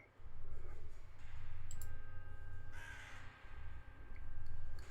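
A large raven calls quietly from a perch, giving several low croaking caws spaced a second or so apart, soft and somewhat distant, with faint clicks between them.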